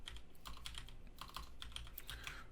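Rapid keystrokes on a computer keyboard while code is typed, a steady clatter of close, crisp clicks with brief pauses and a low background hum, no talking.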